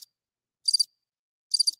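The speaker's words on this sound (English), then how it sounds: "Maybe the crickets will remind me." Crickets chirp in isolated high trills, with a clipped burst at the start and then two full pulses about a second apart, surrounded by dead silence.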